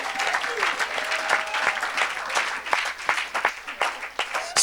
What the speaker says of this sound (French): Est-ce qu'on peut acclamer pour Jésus?